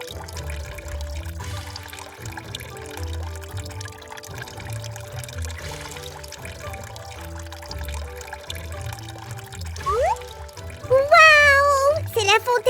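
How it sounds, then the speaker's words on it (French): Water trickling and splashing through a small fountain built from mini bricks, a soft continuous flow under background music, ending in a burst of excited high-pitched child-like voices. "Alors, on peut mettre l'eau en route?"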